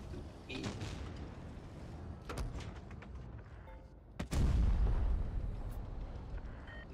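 Enemy tank gunfire in a tank video game, several sharp booming cannon shots with one loud close blast and rumbling aftermath, separated by stretches of quieter battle noise.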